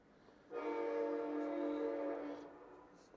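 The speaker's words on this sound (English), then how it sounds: "And then the train goes by." A train sounds its horn as it passes, a steady tonal blast that rises in and holds for about two seconds before fading, heard at moderate distance over faint background hiss.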